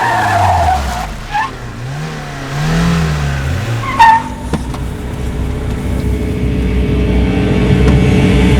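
A car tears past at speed, its engine revving and pitch sweeping before tires squeal in a skid as it is brought to a halt, followed by a settling rumble, loud and close with no talk.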